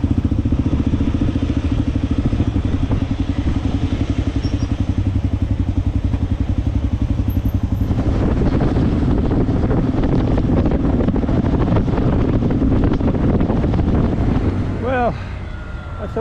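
Motorcycle riding on a road about two hours outside Mumbai: a steady engine drone heavily buffeted by wind, growing rougher and louder midway through, with no one speaking.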